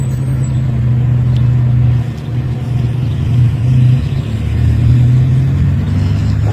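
Heavily loaded FNM truck working on a farm, its engine roaring loud and close with a steady deep drone that briefly dips then climbs back up; a brief spoken word sits over it.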